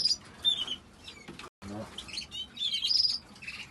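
Young canary or goldfinch in a breeding cage begging for food, high thin chirps and tweets in short repeated bursts, close, with a faint voice murmuring underneath.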